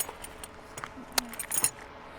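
Metal Allen keys and spanners clink and jangle as they are handled, a few bright close taps and rattles over quiet background.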